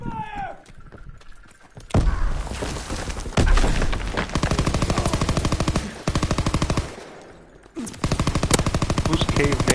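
Rapid automatic gunfire in the Call of Duty video game, loud sustained bursts separated by brief pauses, with a short spoken exclamation near the start.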